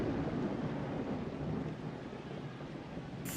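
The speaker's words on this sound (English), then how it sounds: "Thunder strikes." Low rumbling thunder from the Blood Bowl video game, a soft rolling boom that fades gradually, heard faint and alone without talk.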